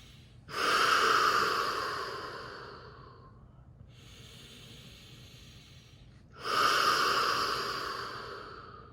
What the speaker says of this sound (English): you want to keep breathing through the mouth until you don't want to anymore